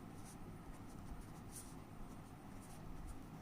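A hand writes a chemistry formula, faint scratchy strokes of a pen or marker in short bursts over low room hum, with no talk.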